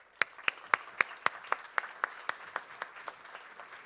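An audience at a talk on savings and agriculture applauds to welcome a speaker. The claps come as a fairly steady, rhythmic run of distinct beats that slowly fade over a few seconds.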